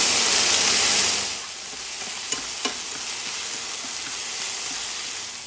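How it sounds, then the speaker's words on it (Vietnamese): Vegetarian bánh bột lọc filling stir-fried in a pan, a loud steady sizzle that eases after the first second into a softer continuous frying hiss, with two brief scraping stir clicks; no talking. "Mình xào cho đến khi cái nhân nó khô lại như vậy là được rồi nè"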